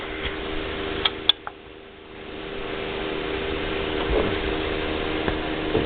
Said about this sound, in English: I'm going to screw that down all the way so I can screw the knob in all the more